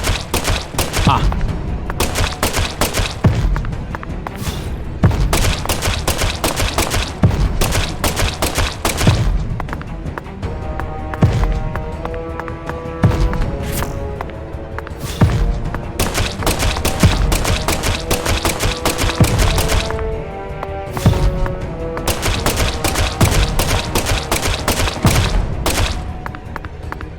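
Gunfire in Deadly Premonition 2, a long run of loud, rapid shots and heavy thuds repeating almost nonstop over a tense musical drone, with no talking.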